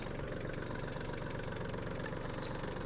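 A Swaraj tractor's diesel engine idles steadily close by, a continuous low rumble with a fine knocking pulse and no pauses throughout.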